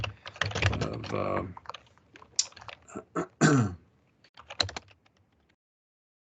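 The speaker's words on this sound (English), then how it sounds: "I'm typing in a file name for this access database" Someone types a file name on a computer keyboard: short, irregular key clicks close by, mixed with a person's voice and throat-clearing noises.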